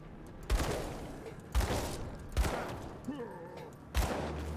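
Repeated gunfire in the action RPG Grim Dawn: four heavy, booming shots spaced about a second apart, each trailing into a noisy rumble, with faint game sounds in between.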